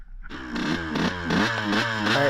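A dirt bike engine starts up and runs close by, its raspy buzz rising and falling through several quick revs at fairly high volume.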